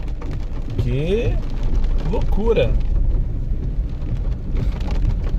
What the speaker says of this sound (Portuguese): Chuva com pedra.